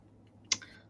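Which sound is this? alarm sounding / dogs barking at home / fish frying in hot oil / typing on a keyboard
typing on a keyboard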